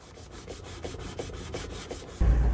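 Wood is sanded by hand with quick, steady back-and-forth rubbing strokes, a close, rhythmic scratchy rasp that repeats about twice a second before a louder thump at the end.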